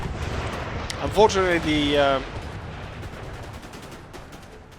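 Dense, rumbling gunfire pours onto fortified walls in the strategy game Imperial Destroyer, a steady battle din under a voice.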